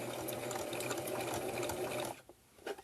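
A sewing machine runs steadily in a back stitch on a scarf face mask, a continuous close mechanical whir that cuts off abruptly, followed by a few faint handling clicks.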